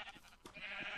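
Sheep bleating in Minecraft, a few short wavering bleats in a farm pen, moderately close and alone with no talk.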